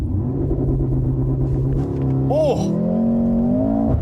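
A 2025 Mercedes-AMG GLC 43 luxury SUV with all-wheel drive and a 9-speed MCT transmission launching from a standing start: a loud, continuous engine drone that shifts pitch midway, with a brief exclamation from someone inside.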